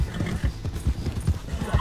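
Horses gallop in a Red Dead Redemption video game, their hooves beating a steady, close, rhythmic clip-clop with a few faint whinnies mixed in.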